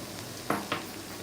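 Sugar is added to thick carrot halwa in a pan, giving two short scraping, stirring scuffs over a soft background sizzle, close and fairly quiet.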